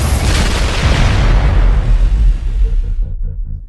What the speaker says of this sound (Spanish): creando una explosión que envolvió a ambos combatientes